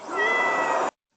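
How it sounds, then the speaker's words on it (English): A single recorded cat meow, loud and close, drawn out for nearly a second with a steady tone before cutting off sharply into silence. "we're listening to a cat"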